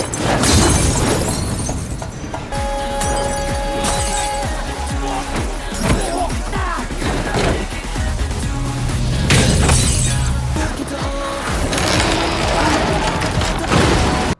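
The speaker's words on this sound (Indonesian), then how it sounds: "melempari Smokey beserta teman-temannya dengan botol kaca" Glass bottles hurled and smashing during a street brawl in the film High and Low, with repeated loud shattering crashes over a dense, noisy fight soundtrack.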